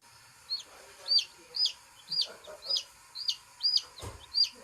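Backyard chickens of several different breeds cluck in a steady series of about eight sharp, evenly spaced calls, fairly close and clear over a quiet background.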